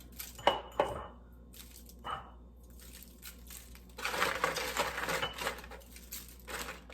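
Onion powder and salt are stirred into food in a dish, with clinks, scrapes and rattles of a utensil against the bowl that come in bursts, then a longer stretch of busy mixing.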